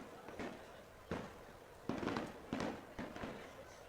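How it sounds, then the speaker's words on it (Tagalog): Loud firecrackers burst at irregular intervals, roughly five sharp cracks with noisy tails, over a low murmur of background talk. "Talagang ang lalakas ng mga paputok."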